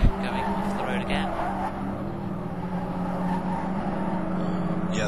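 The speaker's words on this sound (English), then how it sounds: "We're getting a replay here of Michael Kirk going off the road again." A race car in a sim racing game runs off the road, its engine droning steadily with tire squeal and skidding noise throughout, while commentators talk over it.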